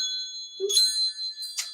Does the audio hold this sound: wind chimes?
yes